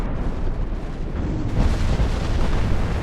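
Torpedo striking a battleship in the naval game Ultimate Admiral Dreadnoughts, a loud, dense explosive roar with rumbling booms that swell midway and keep churning to the end.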